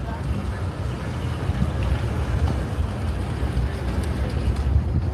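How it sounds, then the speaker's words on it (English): Group of electric scooters riding together outdoors, a steady rushing hum and wind roar at close range, continuous and fairly loud with no talk over it. "All these little shots of the scooters moving"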